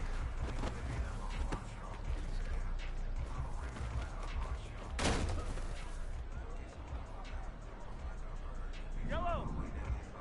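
Gunfire rattles through a video game match, with scattered shots and one sharp loud burst midway set against a busy background while a player shouts over it.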